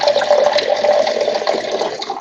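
A toilet flushing close by, a loud continuous rush of swirling water that holds steady for the whole stretch and fades at the very end.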